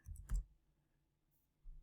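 Keyboard keys tapped while typing into a member search field, heard as a short cluster of soft clicks, a pause, then another brief click, faint and with no talking.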